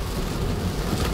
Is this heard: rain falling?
yes